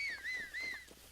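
A whistle blown by the player character in the video game Zelda: Breath of the Wild, heard as a clear rising-and-falling tone repeated in a few sweeping phrases, close and fairly loud, with no talk over it.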